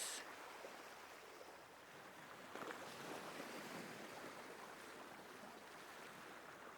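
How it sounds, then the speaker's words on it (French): Ocean waves washing in and receding in a soft, continuous hiss of surf, faint and distant, with a gentle swell partway through and no voices. "La vague qui va et qui vient, déposant de la détente et du calme."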